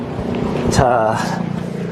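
Audi Q8 with a 3.0 V6 diesel engine starting at the 2019 Geneva Motor Show, a starter whir followed by the engine catching and settling into a low, steady idle, with someone speaking briefly.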